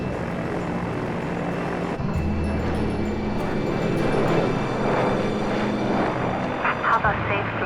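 Water bomber engines run up to takeoff power on the runway, a loud steady propeller drone and heavy low hum that deepens as power comes on, with voices talking over the noise inside the cockpit.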